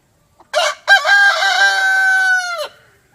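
A backyard rooster waiting for its morning scratch feed gives one loud, close crow, drawn out and clear against silence.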